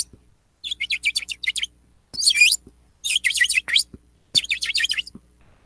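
Small bird chirps in quick bursts of rapid, bright notes, four clusters separated by short silences, close and clear with no other sound.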